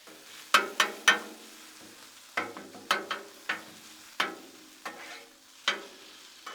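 Hash browns and sausage sizzling on a Blackstone griddle, with a steady soft frying hiss broken by sharp scraping and tapping strikes of a metal spatula at irregular intervals.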